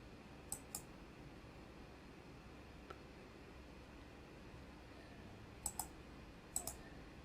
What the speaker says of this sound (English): you can create a new database by clicking on this button